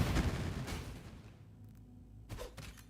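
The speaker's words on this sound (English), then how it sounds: "Now I'll detonate them." Several thrown traps detonate in quick succession in a video game, a dense burst of blasts in the first second followed by a lull, then two or three further sharp bangs near the end.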